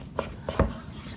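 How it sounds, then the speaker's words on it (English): A knife works through a beef roast on a board, giving a few soft scraping strokes and one firmer thud as the blade meets the surface, close against a quiet background. "we'll take this roast and we're going to cut it"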